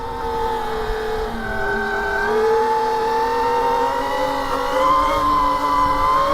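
A Sur Ron electric dirt bike held in a wheelie, its motor giving a steady rising and falling whine with layered tonal harmonics, loud and close throughout with no talk.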